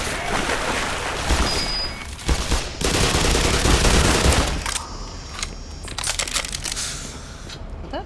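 Sustained automatic turret fire in Black Mesa rattles in long loud bursts with brief gaps, mixed with crunching impacts and other game noise.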